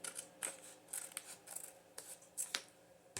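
Scissors snip through paper being trimmed for a vintage journal cover, giving about eight crisp, close cuts in an uneven rhythm with no talk.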